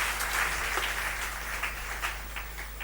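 Church congregation applauding during a sermon, a steady wash of many hands clapping throughout, moderately loud and continuous with no voices standing out.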